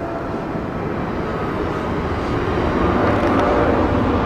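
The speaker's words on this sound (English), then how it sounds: "That's a noisy one. That's got a big jet." A large jet airliner passes overhead, its loud, broad roar building steadily and swelling further toward the end.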